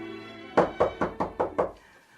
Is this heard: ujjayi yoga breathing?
no